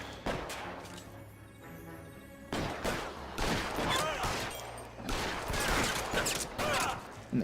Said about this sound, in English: I shot him in the crotch.